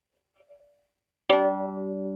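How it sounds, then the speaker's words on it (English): After a faint earlier ring, one firm pluck of the G string on a sonometer sounds with a bright attack and a sustained, resonant metallic tone that holds steadily, close and alone. "I'm going to pluck the G string now."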